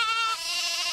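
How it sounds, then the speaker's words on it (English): A single sheep or goat bleats loudly and close by, one sustained wavering cry filling the whole second, from a herd of sheep and goats kept by a family. "Tasho, they have lots of sheep and goats."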